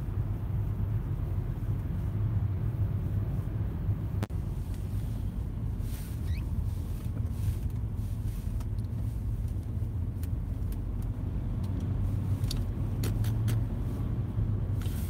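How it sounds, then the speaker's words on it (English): Road traffic rumbles steadily in the background, a low continuous drone of passing vehicles with faint intermittent swells and no clear voices. "Traffic."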